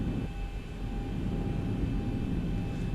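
An airliner in X-Plane 11 taxiing toward runway 31 Center at LaGuardia: a continuous, even jet-engine drone with a low rumble and faint steady whine, moderately loud, with no speech.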